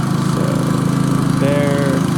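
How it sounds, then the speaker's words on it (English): A camera drone at a roofing job site descends to land, giving off a steady, loud, close buzzing drone with no break. "bring the drone back down"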